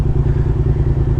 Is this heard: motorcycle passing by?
yes